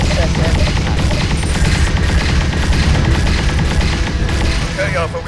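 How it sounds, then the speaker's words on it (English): Loud, dense blasts and crackling bursts of a ship-to-ship missile striking a warship in space-combat game Freespace 2, continuous impact noise with a faint high electronic whine. "All hands, brace for SSM impact."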